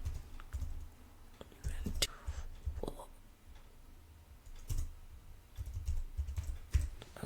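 Someone types on a computer keyboard in irregular bursts of soft clicks and taps, close by, with short pauses between the runs.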